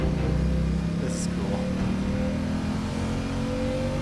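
A vehicle engine revs hard at full throttle in the video game Genshin Impact, a loud sustained roar that holds steady across the whole stretch under dense game sound and music.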